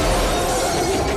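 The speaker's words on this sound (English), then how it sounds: "had it make contact with the windshield exactly when the original static log hit the windshield so the glass would smash" Car windshield glass smashing as a log strikes it in a staged film crash, a loud dense burst of crunching, crackling shards sustained throughout, close and harsh.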